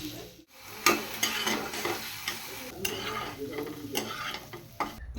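Maggi noodles with egg and tomato cook in a pan, a close sizzle broken by scraping stirs and light utensil clinks against the metal, with no voices.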